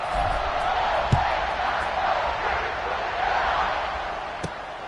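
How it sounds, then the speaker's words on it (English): A stadium crowd in EA Sports College Football 26 buzzes after a score, a dense, steady roar of many voices with a couple of faint thumps and no commentary over it. "this crowd is buzzing after that last score"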